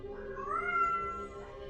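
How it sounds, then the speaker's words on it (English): A cat lets out one drawn-out meow near the microphone in a quiet recording room, over a faint steady hum. "And supervising as always is Vega the cat."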